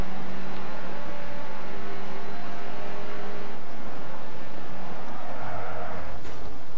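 Rally car engine from Dirt Rally with tyres losing grip and skidding on the stage, a steady loud drone of engine and road noise throughout with no talk.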